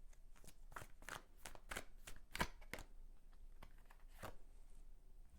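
Tarot cards are shuffled by hand, a steady series of soft riffling, slapping strokes, close and quiet, with no talking.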